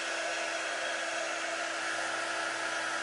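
A hair dryer blows steadily to dry ink printed on a fleece hoodie, a loud, close, continuous whooshing hum with no pauses.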